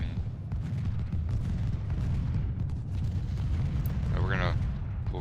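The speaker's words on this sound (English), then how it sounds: "let the artillery do any work that's going to be needed here" Continuous rumbling cannon fire from artillery batteries in the Civil War strategy game Ultimate General: Civil War during the Battle of Gaines' Mill, a dense low roar of distant booms with a brief whistling tone near the end.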